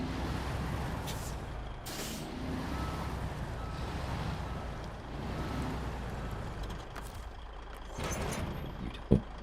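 A heavy truck in the snowy off-road game SnowRunner reverses under a trailer, its engine rumbling steadily throughout, with bursts of air-brake hiss and a sharp clunk near the end.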